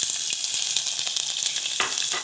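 Chopped ginger frying in hot oil for masar chawal, a loud, close, continuous sizzle with crackling pops and some stirring, ending abruptly.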